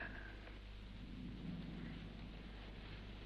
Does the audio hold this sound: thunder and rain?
yes